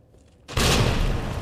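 A grenade blows up in the Resident Evil video game, a sudden loud explosive boom after a quiet moment, with the blast's rumble and crackle holding on at high volume.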